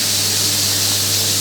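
Kitchen exhaust fan switched on over a stove to clear bacon smell while pasta carbonara is cooked: a steady, loud broadband whoosh of rushing air with a constant low motor hum underneath, unchanging for the whole stretch, with no talking.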